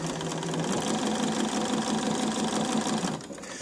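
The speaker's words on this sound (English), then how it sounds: "So I'm just going to stitch along a straight line." A home sewing machine stitches a straight line with black bobbin thread and turquoise top thread, whirring quickly and steadily close up for about three seconds before it slows and stops.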